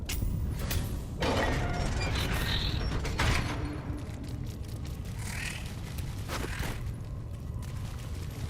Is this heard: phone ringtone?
no